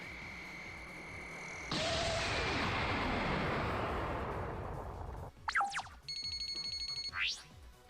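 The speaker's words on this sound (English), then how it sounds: "I will have Malefic Red-Eyes Black Dragon attack you directly" Yu-Gi-Oh Duels of the Cyber Realm game effect for Malefic Red-Eyes Black Dragon's direct attack: a steady tone, then a loud roaring blast of noise for several seconds, followed by quick sweeping zaps and chimes.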